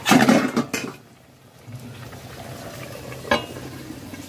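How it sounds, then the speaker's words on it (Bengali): Cauliflower roast is stirred in a pan, with a few loud scraping clatters at first, then a quieter simmering bubble and one more brief scrape, close and without talk. "একটু নাড়াচাড়া করে নেব।"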